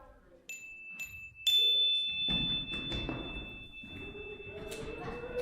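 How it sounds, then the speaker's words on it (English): A chime rung in a classroom gives a clear, sustained ringing tone that lingers for several seconds under muffled movement, thumps and children's rustling. "So I'm going to ring the chime"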